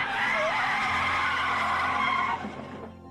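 Tires screech in one long, loud skid during a film car chase, holding steady for over two seconds before cutting off into lower engine rumble.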